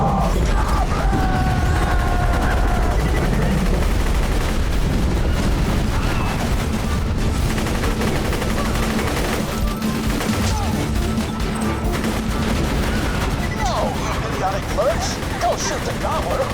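Dense, continuous gunfire and explosions from a Borderlands 2 battle, loud and unbroken throughout, with bursts and crashes layered over game music and a voice talking at times.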